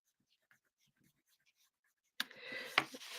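Faint pen scratches on paper around a cubism-style artwork tick lightly at first, then a louder burst of rustling and handling noise takes over.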